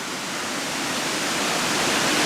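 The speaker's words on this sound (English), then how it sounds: "the power of the water gushing down the hillside here through the rocks" A powerful waterfall gushing down a hillside through rocks, a loud, steady hissing roar that swells slightly toward the end, with no voices.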